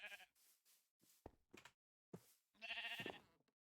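Sheep in the Minecraft-based game Sevtech Ages bleat in a series of short, clear calls with gaps between them, ending in one longer bleat, close and distinct.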